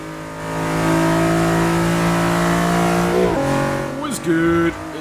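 A Nissan Skyline GT-R R35 in Forza 6 revs loud and close, a sustained high engine drone that drops, shifts and climbs again in pitch, with someone talking over it.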